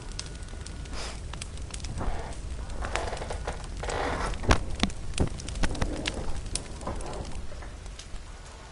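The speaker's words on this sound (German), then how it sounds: "Ich höre ein Geräusch. Das Feuer." Campfire in the survival game The Forest crackling steadily with frequent sharp pops and snaps, moderately close, mixed with faint background game ambience.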